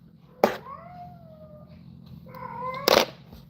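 A pet cat meows twice, each call starting with a sharp onset and sliding into a drawn-out wavering tone, close by over a low steady hum.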